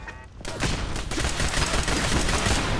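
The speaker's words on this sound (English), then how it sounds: "Except for machine gun turrets, clearly." Machine gun turret fire in the video game Fallout 4, a loud sustained barrage of rapid automatic shots that starts abruptly and continues without a break.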